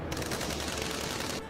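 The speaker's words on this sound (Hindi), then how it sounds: "तभी एक तरफ से कई फायर हुए।" Several gunshots fire in quick succession from one side during a dramatized audio story, a dense, continuous burst of loud cracks filling the short moment with no voices over it.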